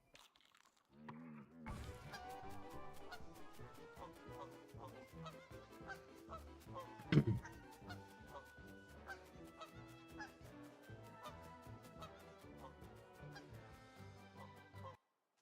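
Woodie in goose form in the game Don't Starve, honking over dense, busy game music and effects, with a sharp loud burst near the middle.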